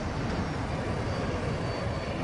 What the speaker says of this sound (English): And now there's another jet.